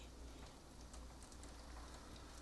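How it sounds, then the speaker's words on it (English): Rain pouring down in a dense, even hiss of drops hitting surfaces, constant and fairly close, with nothing else over it. "Just like this rain, I don't know if you can hear this rain pouring down."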